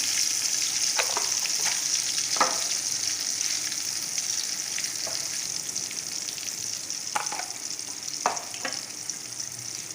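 Ridge gourd cooks with tomato in a wok, giving a steady hiss of sizzling oil throughout, broken by occasional clicks and scrapes of a stirring spoon, close and moderately loud with no voices.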